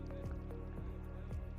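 Water splashes and sloshes in a few soft, squelching steps through a river, low and muffled, with no talk.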